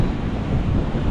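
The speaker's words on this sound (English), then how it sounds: "It's a really nice beach." Wind buffets the microphone over a steady wash of surf on a camping beach at Golden Beach, a dense continuous roar with no voices.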